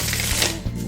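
A mass-market tarot card deck being shuffled, a brief close riffle of stiff cards with a couple of soft taps, alone and fairly loud.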